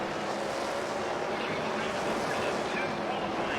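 A sprint car engine in World of Outlaws 2002 at Eldora drones continuously at high revs, a steady buzzing whine that holds fairly even throughout.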